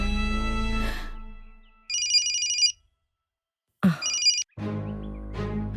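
A telephone rings while a call is being placed, giving two distinct bursts of a bright electronic ringing tone separated by silence. Sustained tonal sound comes before and after the rings.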